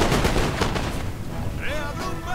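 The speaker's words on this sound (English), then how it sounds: "Just the sheer fire of my Chasseurs turned that one unit back." Massed musket volleys from French Chasseurs in a Napoleon: Total War online battle between France and Spain, a dense crackle of overlapping shots that rolls continuously, with faint battlefield whistles and cries rising toward the end.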